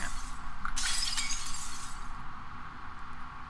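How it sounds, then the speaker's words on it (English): Glass shatters in the video game Prey, a single sharp crash with bright tinkling shards that lasts about a second, then fades into a low ambient hum. "Did you just break the glass?"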